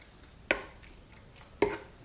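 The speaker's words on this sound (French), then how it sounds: "On va pouvoir y mettre le fromage râpé. Alors si on le mélange en plusieurs fois," Grated cheese being stirred into a chicken filling in a pan: two brief, soft scraping strokes about a second apart, quiet against faint kitchen background.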